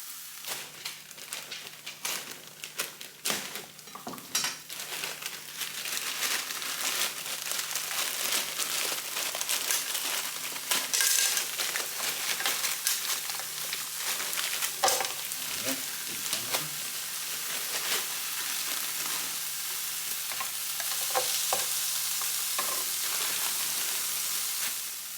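Frozen peas hit a hot pan with bacon for fried rice, setting off a loud, steady crackling sizzle with sharp pops and spatters that carry on for a long stretch, with no talking.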